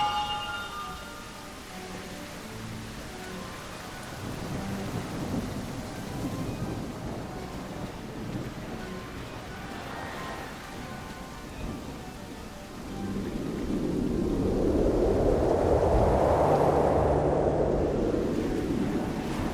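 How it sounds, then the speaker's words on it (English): Rain falls steadily throughout, with low rolling thunder rumbles swelling near the end into a loud, broad roll before fading. "A rumble of thunder, a sudden surprise"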